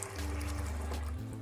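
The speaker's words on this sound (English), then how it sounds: "I just go ahead and I fill it up with water, you know, just like this" Water pouring steadily into a water distiller, a close continuous gurgling trickle with a brief break near the end.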